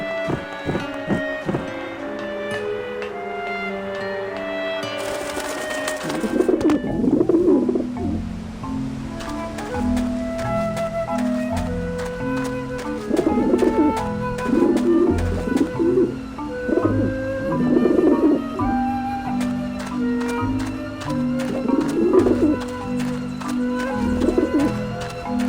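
Pigeons coo repeatedly in the video game Grim Fandango, soft rolling coos recurring over a steady background of game music and faint surf-like wash.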